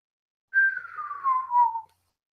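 A storyteller imitates a low whistle, one sustained tone about 1.4 seconds long that slowly slides downward and wavers slightly, close and alone with no talk around it.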